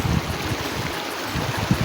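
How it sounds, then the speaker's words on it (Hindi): Fast-flowing water of the Sim Nala stream at Saleh Abad, a steady broadband rush with bubbling and gurgling low down, continuous and fairly close. "ये देखिए पानी कितनी तेज़ी से आगे की जानिब रवां दावां है"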